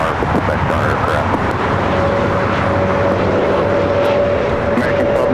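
An American Airlines jet taxiing at LAX gives off a steady, loud broadband engine rumble with a faint sustained whine, constant throughout and mixed with background radio-style chatter.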